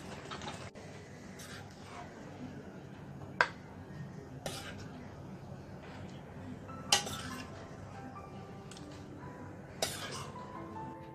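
Prawn and raw mango curry is scooped from a pan into a bowl, with scattered clinks and scrapes of a utensil against cookware over quiet kitchen background noise.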